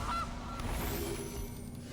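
A goose honks for the Gilded Goose card in MTG Arena, a short nasal call at the very start over a dense, noisy game background.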